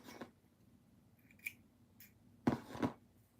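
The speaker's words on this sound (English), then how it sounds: "And go ahead and cut the string." Scissors snip through crochet yarn string in a few quick, close clicks. A faint snip comes first, then a louder double cut near the end, against a quiet background.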